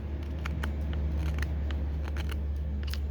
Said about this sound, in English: Yeah, I could put more pressure with this knife.